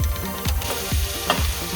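Onions sizzle in a hot pan alongside bacon, a steady frying hiss with rhythmic scraping stirs repeating about every half second, close and continuous with no talking.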